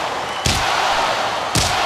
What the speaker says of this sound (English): Slamming Brent into the cage like a rag doll.